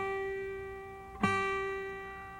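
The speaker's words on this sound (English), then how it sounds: "Pressing between the frets with your fingertips gives you the clear sound you want" A single clear guitar note, fretted with the fingertip pressed between the frets, rings out once with a sharp pluck and sustains steadily for over a second.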